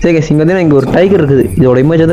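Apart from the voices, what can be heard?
None of the usual background noises is heard.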